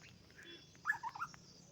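A bird chirps a few quick, faint notes in a hill forest, short bright calls clustered together against a quiet outdoor background.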